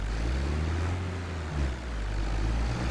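A tractor engine in a farming game, a loud, steady low drone with a faint rise and fall in pitch, running alone and close.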